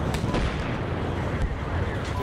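Friendly artillery rounds land during a military video game battle, making a dense, loud, continuous rumble of blasts with a few sharper cracks standing out, and a voice can be heard under the barrage.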